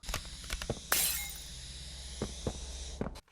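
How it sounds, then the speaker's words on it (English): Glass cracks and shatters in a burst from fire in the Poppy Playtime video game, a sharp crash with a ringing tail, framed by game thuds and footstep-like knocks before and after. "Ignite the fire, which will crack the glass."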